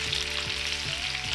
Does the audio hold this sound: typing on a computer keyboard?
no